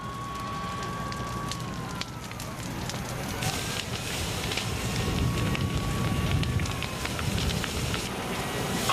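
A wildfire burning through the upscale residential community of Harmony Grove near San Diego, California: a dense, continuous roar and crackle with gusty wind, with faint tonal sirens wavering in the background throughout.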